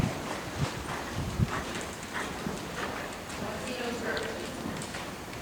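A horse walks around a riding ring with other riders, its hooves clip-clopping in an even rhythm as an instructor talks steadily over the steps.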